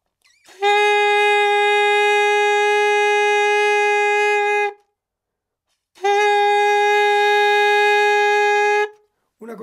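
Two long, steady sustained saxophone notes on A-flat, each lasting about four seconds, separated by a short silence.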